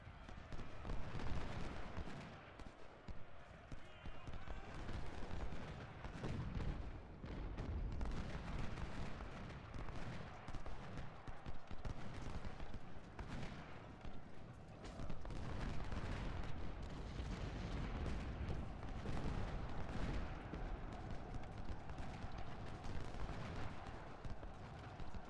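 Civil War battle in the Ultimate General strategy game, with massed musket volleys and booming artillery rolling continuously in a dense, loud barrage that barely lets up.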